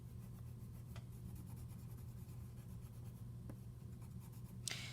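A white Crayola pencil drawing circular strokes on black paper, a soft continuous scratchy rubbing that stays close and quiet throughout.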